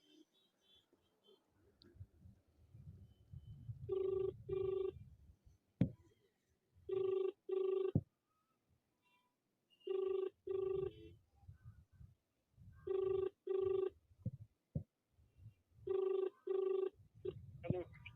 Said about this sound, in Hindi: हम डीएम साहब को फ़ोन लगा रहे हैं